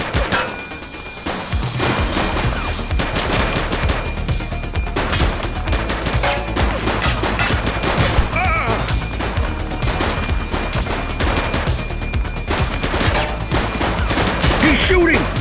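Sustained gunfire in the police game The Precinct, a dense continuous fusillade of overlapping shots close and loud for over ten seconds after a brief quieter opening, with mixed crashes and impacts throughout.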